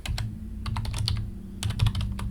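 Rapid typing on a computer keyboard, bursts of crisp key clicks with brief pauses between them, close up over a low steady hum.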